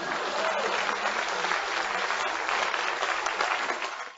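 After a joke, the audience at a comedy and storytelling show claps. The applause is close and steady for about four seconds, then tapers off slightly at the end.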